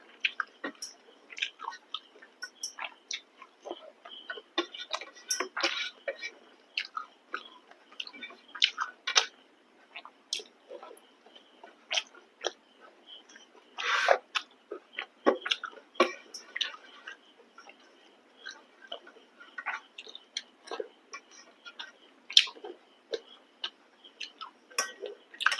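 Close, wet chewing and crunchy clicks as fried small fish is eaten with a home-cooked meal. The bites come in irregular bursts with short pauses, loud against a quiet background.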